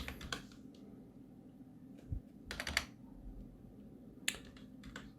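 Short bursts of typing on a computer keyboard, quick clusters of key clicks separated by pauses, close and fairly quiet.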